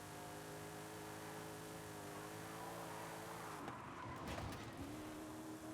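A Forsberg Racing stock car in Forza Horizon 5 drones with a steady engine note that shifts in pitch partway through, alongside a brief burst of rougher mechanical noise, sounding continuous and fairly close.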